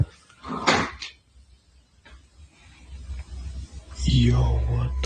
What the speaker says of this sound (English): this door has been like opening and closing.